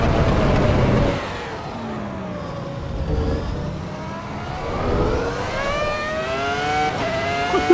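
A V10 race car in Assetto Corsa Evo revs hard and shifts through gears, its engine note sweeping up and down in pitch as the car accelerates and brakes through corners, loud and continuous.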